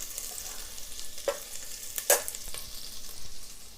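Garlic and ginger fry in a pan, a steady soft sizzle broken by a few brief clatters of stirring.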